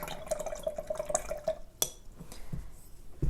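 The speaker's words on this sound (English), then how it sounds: "I need to wash off my brush again" A paintbrush swished and rinsed in a water jar during a gouache painting session, with a quick run of small drips and light clinks, then a few scattered taps against glass, close and quiet.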